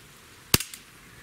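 Single sharp gunshot from a Springfield Armory 1911 Mil-Spec pistol, a loud sudden crack followed by short echoing reflections, then quiet.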